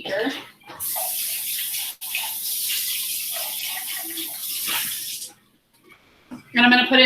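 Tap water runs steadily into a glass beaker for several seconds during a pH indicator lab, a loud continuous splashing pour that stops abruptly, followed by a brief clink.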